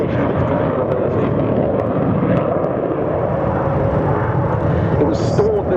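Steady, loud roar of a SAAB Viggen AJS37 jet from the Swedish historic flight during a flying display at the Waddington Airshow, a continuous engine rumble with a faint high whine near the end.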